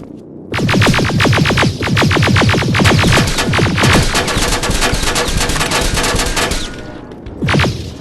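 Loud, sustained automatic gunfire from Terminator: Resistance rattles in rapid close bursts for several seconds, trailing off before one last short burst near the end.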